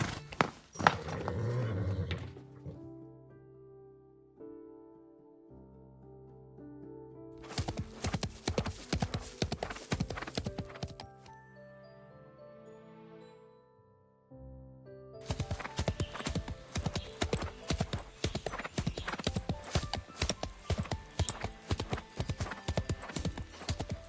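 Horse hooves clip-clop in a steady rhythmic gait in the video game Love and Deepspace, with music playing alongside and a stretch of quieter ambience between two bursts of hoofbeats.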